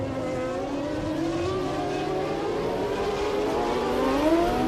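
Formula One cars from the 1994 season roar off the starting grid together, a dense, loud wall of high-pitched engine whine whose pitch sweeps steadily upward as they accelerate away.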